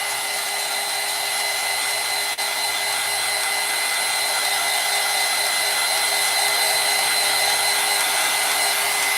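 A hair dryer blows steadily on a silicone baby doll, a loud, constant whooshing whine with a thin motor tone that barely changes and one brief dip.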